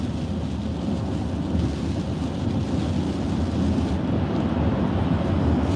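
Thunderstorm heard from inside a moving car, a continuous loud low rumble and wash of rain and road noise that holds steady and swells slightly toward the end.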